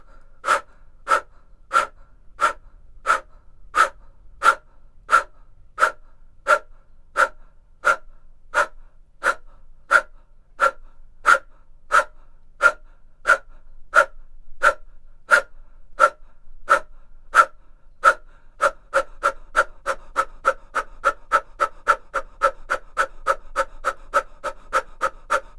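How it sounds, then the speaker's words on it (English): Forceful, rhythmic yoga breathing exhalations during a Bikram hatha class, sharp nasal puffs repeating steadily at about one per second, then speeding up into a faster run near the end, close and clear with no talk. "Kapalabhati, breath of fire"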